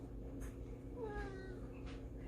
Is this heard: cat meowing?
yes